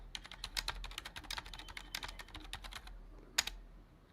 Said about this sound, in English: I got to type in my password.